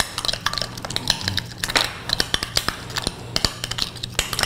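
A spoon stirs red chili powder seasoning in a bowl with quick, irregular metallic clinks and taps close up, and no one speaks.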